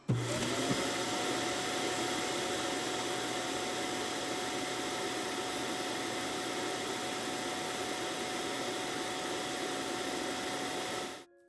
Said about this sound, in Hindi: Start emptying the dustbin.